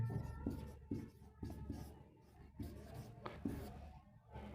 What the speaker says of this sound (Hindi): यहां लिख देते हैं